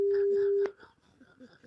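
On a call placed to a radio listener, a single steady electronic telephone tone sounds for just over half a second, then breaks off. Voices take over right after.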